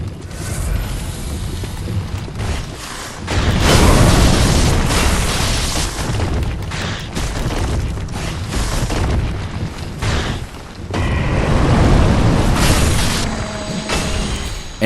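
Deep booming roars of a huge dragon breathing fire in Dark Souls III, loud blasts in long surges with short gaps between them, no voices.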